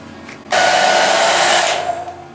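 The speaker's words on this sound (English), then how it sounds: "Maybe I'm going to dry my hair now" A hair dryer switches on abruptly to blow freshly cut short hair, a loud, close, steady airy roar that holds for a couple of seconds before easing slightly.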